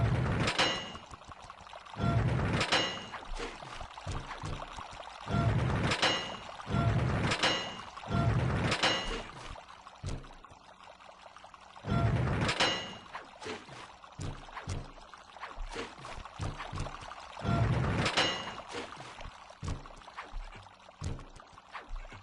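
Water surging through valves in Sly 2, arriving in repeated loud gushing bursts that swell and fade over a quieter flowing background.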